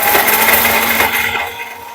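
Raw masala paste for spicy modak bhajji grinding in a kitchen mixer, a loud steady whirring grind with gritty texture that eases slightly near the end.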